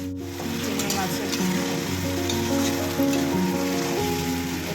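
Prawns cooking in a pan with mustard, poppy seed, onion and tomato, a steady crackling sizzle with scattered pops, close and continuous, with faint low hum beneath.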